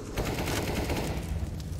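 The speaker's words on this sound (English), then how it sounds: "speedak taking a shot from Shiro as he tried to move back towards the bomb site" Rapid bursts of rifle gunfire in a Counter-Strike: Global Offensive pro match between Nemiga and Gambit, dense and loud, with overlapping shots forming a continuous fusillade.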